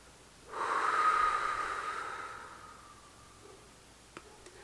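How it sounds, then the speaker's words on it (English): A single deep breath drawn in during a breathing exercise, loud and close at the start and then slowly fading as it is held and released, followed by a couple of small clicks. No talking. "Let's take a deep breath. Breathe in. Hold"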